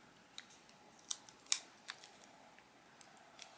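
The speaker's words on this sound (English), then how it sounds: "I'm going to cut another piece of tape." Scissors snip a piece of tape in a quiet room, giving a few sharp, close metallic clicks and snips at irregular intervals, one louder than the others, between stretches of near silence.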